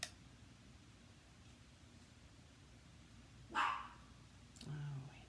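A female dog named Andy gives two short barks a second apart, moderately loud against a quiet, steady indoor background hum.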